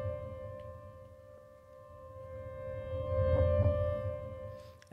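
A sustained synthesizer D note from a Dream Audio Tools plugin, held at full volume and playing alone as one long, steady tone with a soft attack and no other sounds.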